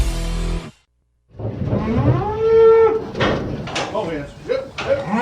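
Cattle bawl loudly and close at hand in several overlapping moos, each drawn out, with a brief silent gap near the start and clattering farm noise around them.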